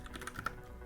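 Someone types a folder name on a computer keyboard: a quick, close run of light key clicks, a handful of taps with one slightly sharper stroke, and no talking.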